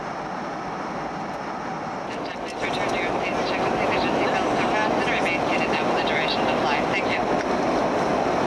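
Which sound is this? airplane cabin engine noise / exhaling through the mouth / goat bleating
airplane cabin engine noise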